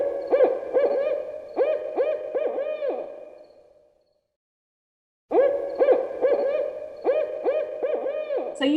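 Owl giving its territorial 'who cooks for you all' hooting call in woodland: two loud, near series of rhythmic, bubbling hoots separated by a second of silence, no voices.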